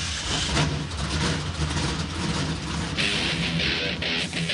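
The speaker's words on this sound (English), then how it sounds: "Drivers, start your engines." NASCAR Truck Series engines fire up and idle at Charlotte Motor Speedway, a steady, loud rumble of many motors with occasional revs swelling over a dense roar.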